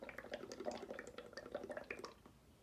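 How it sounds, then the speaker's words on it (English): Someone blows through a straw into a cup of liquid, and the quiet, bubbly gurgle runs on without a break, up close and soft. "I'm going to keep blowing so that the bubbles start to overflow the cup like a little mini volcano onto my plate"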